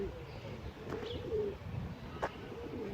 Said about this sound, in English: Bird just come perch right there.